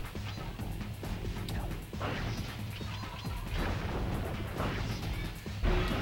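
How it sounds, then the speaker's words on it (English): Repeated gunshots from Carmelita Fox in the Sly Cooper game, a rapid string of sharp cracks and crashing impacts over a busy background, fairly close and steady throughout. "Because Carmelita Fox is still shooting at me."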